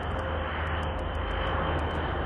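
A tiltrotor propeller aircraft flies overhead with a loud, steady engine drone and a low rumble that fills the whole moment without a break.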